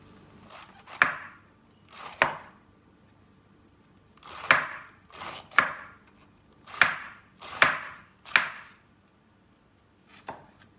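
A sharp kitchen knife chops chilies, garlic and shallots on a board for fried tofu, landing about ten crisp, spaced knocks, some in quick pairs, loud and close with no talk.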